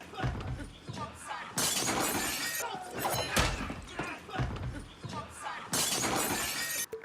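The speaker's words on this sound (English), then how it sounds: "So, and that's how the glass breaks." Repeated glass-breaking crashes from a Dreams animation on PS4/PS5, several loud bursts of shattering glass with thuds between them, recurring over several seconds.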